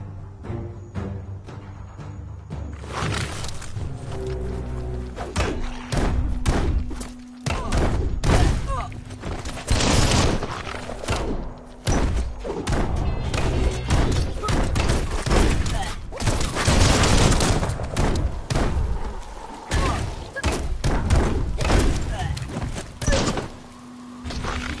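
Combat in Biomutant as a bomb lobber enemy attacks: a rapid burst of loud thuds, bangs and explosive impacts, some clustered and some spaced out, over background game sound, with speech mixed in.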